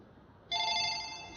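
A telephone begins ringing partway through, a steady electronic trill that holds loud and close over quiet room tone.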